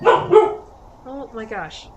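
A pet dog barks in two quick, loud close bursts, followed by a person exclaiming over the noise.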